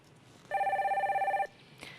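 A telephone rings once for a phone-in consultation on a broadcast, a clean electronic trill lasting about a second, loud and close, with quiet room tone before and after.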